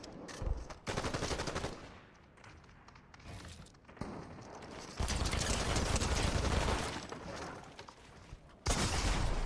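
Loud video-game gunfire in heavy bursts, shotgun blasts among booming shots and mechanical clatter, coming in several dense stretches separated by brief quieter moments, with no talk over it.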